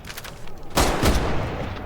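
A K98 bolt-action rifle fires in the WWII VR game Medal of Honor: Above and Beyond. A sharp, loud crack cuts through a steady background hiss, followed moments later by a second heavy thump.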